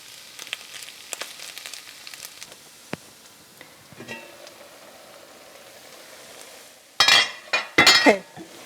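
Meat and sausage are turned over in a frying pan for German kale stew, with soft sizzling and scattered light scrapes followed by a few louder metallic clinks and clatters near the end.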